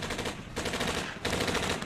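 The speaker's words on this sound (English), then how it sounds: "Not even his trusted Tommy gun could save him from the blaze of bullets fired by the doomed FBI agents" Tommy gun fire rattles in rapid sustained bursts during a gangster shootout, loud and close, with two bursts separated by brief pauses and no speech.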